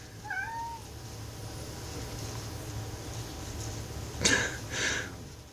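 A pet cat gives a short rising meow, then two louder meows near the end of a quiet indoor room, with a faint low hum underneath.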